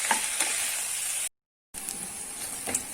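Ivy gourd masala fry roasting in a pan over the flame while being stirred, a steady close sizzle and hiss with scraping stir strokes, broken by a brief silent gap.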